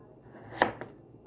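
A knife cuts through potatoes into French fry shapes, giving one sharp chop followed by a lighter second tap against a quiet background.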